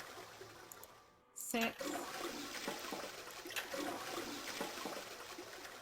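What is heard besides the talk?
toilet flushing in video game Zero Escape: 999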